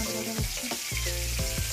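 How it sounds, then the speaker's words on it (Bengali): Hilsa fish frying in a pan, a dense continuous sizzle heard up close with a few soft knocks and hums in the background. "মাছ ভাজা হচ্ছে।"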